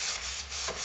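Steady hand rubbing of a light coat onto the bottom of a wooden soap display box in a wood shop, a close, continuous soft scuffing with a brief swell near the end.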